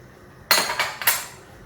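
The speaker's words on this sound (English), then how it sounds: "Okay, so we'll put the lid back on" A metal lid lands back on a pot of simmering Vietnamese crab noodle soup (bun rieu) with a sharp clank, then two quick rattling clinks as it settles, close and loud in a quiet kitchen.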